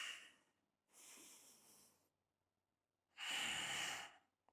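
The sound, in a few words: exhaling during tricep exercise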